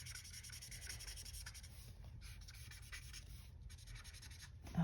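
A Copic-style marker, shade Y030, rubs back and forth on paper in a coloring book in quick, soft scratchy strokes, faint and close with brief pauses between passes.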